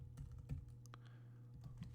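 Computer keyboard keys tapped in short bursts while entering betting lines into a spreadsheet, soft clicks over a steady low hum.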